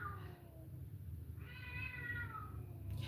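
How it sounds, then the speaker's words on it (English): Cats meow in clear, drawn-out cries, one short call followed by a longer, louder wail, heard over a steady low background hum with no talking. "those cats are really annoying"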